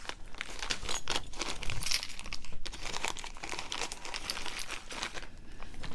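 Crinkling and tearing of a taped-up plastic package of carved beads being pulled open by hand, continuous close rustling and ripping with no talk.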